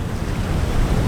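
Ocean waves crash against volcanic rocks on the western point of Curaçao at Westpunt. The surf makes a loud, continuous wash, with wind buffeting the microphone throughout.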